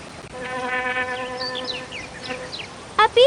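A cartoonish bee buzzes in the PC game I Spy: Treasure Hunt, a steady synthetic drone wavering in pitch for a couple of seconds, capped by a brief bright chime.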